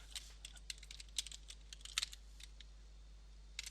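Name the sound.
typing Google on a computer keyboard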